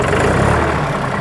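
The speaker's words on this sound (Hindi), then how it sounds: "अब वक्त आ गया है ट्रैक्टर की स्टार्ट करके ट्रैक्टर की आवाज़ सुनवाने का" A New Holland 3600 Heritage tractor with a Fiat Powertrain diesel engine, held in neutral, runs with a steady low rumble, loud and close with no talk.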